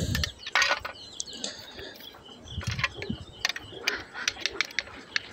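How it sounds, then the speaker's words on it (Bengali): GI wire twisted tight with pliers around a bike exhaust holder, giving a run of sharp metallic clicks and scraping twists, close and fairly loud, coming in uneven bursts with no talk. "বেঁধে প্লাস দিয়ে ভালো করে টাইট দিয়ে নেব"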